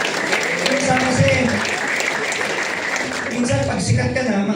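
Audience applause at an Ascenders training seminar, a steady wash of clapping from a crowd that runs through the whole stretch at an even level.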